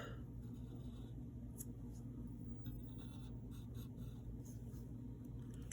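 Pencil drawing the Beast's eyes on paper makes a faint, continuous scratching, low and steady throughout without any talking.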